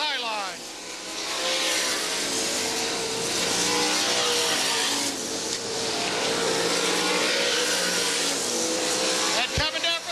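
Race cars on the white-flag lap roar past at speed, engines loud and revving in a sustained sweeping drone with swells as cars pass, under a race announcer's fast commentary.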